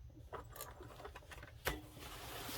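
A sewing machine runs a straight stitch on denim jeans during a patch repair, heard as quiet rapid mechanical clatter in short bursts with a sharper knock midway, fairly faint and close.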